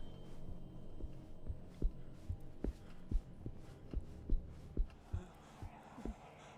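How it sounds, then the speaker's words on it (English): In the horror video game Song of Horror, a heartbeat thumps in a slow, regular double pulse, low and muffled, continuing steadily for several seconds with faint background hum. "I need his heartbeat to calm down for a sec"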